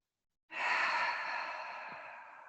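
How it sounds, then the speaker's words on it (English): A single long, soft breath drawn in and slowly released, close and airy, fading gradually during a calm yoga session with no talk. "you could take a collective breath with me by exhaling the air out"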